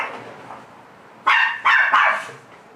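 Puppy barking indoors, three sharp high yaps in quick succession after a quiet stretch, moderately close, no one talking.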